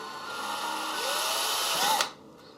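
A power drill boring a hole into a lightstick tube, a steady high whine that rises slightly in pitch before stopping abruptly after about two seconds, close and alone.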